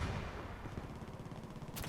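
Gunfire in the video game Battlefield 2042: a dense, rumbling stretch of rapid shots and booming impacts, fairly faint overall, with a sharp burst near the end.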